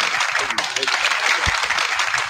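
Audience applause at a heaven and hell debate, a brief burst of clapping and crowd noise mixed with voices and a raised shout, steady and fairly loud over two seconds.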